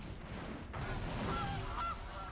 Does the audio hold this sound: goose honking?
yes